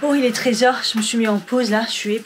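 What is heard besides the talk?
No everyday noise stands out behind the speech.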